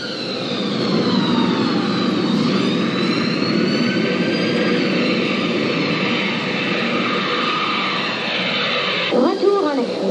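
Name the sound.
airplane cabin engine noise during flight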